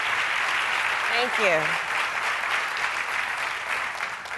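Sustained audience applause at a women's leadership conference at the Haas School in San Francisco as a speaker comes to the stage, steady and full throughout, with a voice briefly speaking over it.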